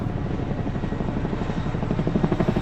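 A helicopter hovers close above snow, a steady dense rotor roar with rhythmic chopping that fills the whole span, loud and near with no voices.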